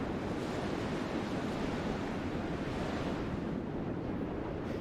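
Water in the VR game Ilysia gives off a continuous broadband wash like surf or rushing wind. It stays loud and even throughout, with no talk.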